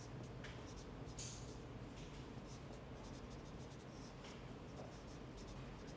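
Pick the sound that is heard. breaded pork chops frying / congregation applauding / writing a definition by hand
writing a definition by hand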